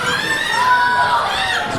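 A wrestling crowd at a live show cheers and shouts continuously, a loud, dense roar of many high-pitched voices with some whooping that holds steady throughout.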